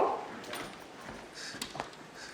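Dogs at a home give short whimpers and a couple of light yips, close and fairly soft against room noise.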